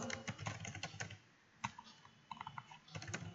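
Fingers tapping out a name on a computer keyboard, producing quiet, irregular clicks in quick bursts with brief pauses between them.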